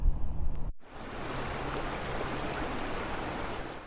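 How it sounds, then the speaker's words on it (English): Creek water in Boulder, Colorado flows in a steady, full broadband rush after a brief low rumble at the start, close and continuous with no voices. "There's a comfort in the creek."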